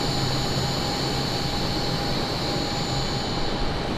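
A steady, unbroken aircraft engine drone from Microsoft Flight Simulator 2024, heard while the plane climbs at very high altitude near 40,000 feet, with a constant whine riding over a broad roar and no speech.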